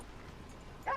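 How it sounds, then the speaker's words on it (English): A bluetick coonhound in Red Dead Redemption 2 gives a short, fairly loud bark or yip right at the end, after a second of quiet game ambience. "Blue tick coonhound."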